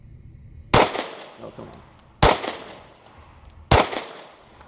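Three sharp Smith & Wesson CSX pistol shots ring out at a steady, slow pace, each a loud crack with a short ringing tail, and a voice briefly mutters between them.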